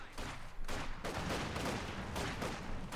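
A Maxim machine gun in Company of Heroes 2 fires sustained bursts with sharp rattling shots, loud and near, amid the rumbling clutter of battle and without talk.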